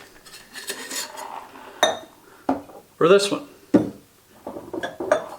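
Ice and glassware clink sharply several times as a double rocks glass is filled at a home bourbon bar, bright knocks and rattles separated by pauses while someone speaks briefly.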